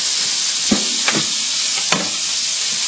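Food fries in a pan with a loud, steady hiss, broken by a few soft clunks as pieces are moved around; no voices.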